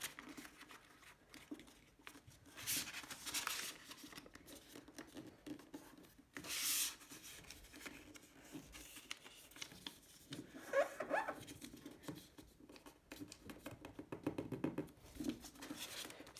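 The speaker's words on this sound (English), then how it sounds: "fold in this diagonal line here into the middle of the piece" Paper being folded into an origami hat, boat or plane: continuous soft rubbing, creasing and crinkling close up, with a few louder rustling bursts as the sheet is pressed and turned.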